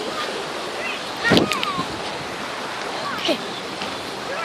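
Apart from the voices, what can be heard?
stream of flowing water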